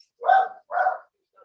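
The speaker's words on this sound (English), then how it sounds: "Whoever has a dog, please mute yourself." A dog barks twice, with a short yip after, coming through remote audio during an online meeting. The two barks are mid-distance and clear against otherwise quiet surroundings, with a faint trailing sound after them.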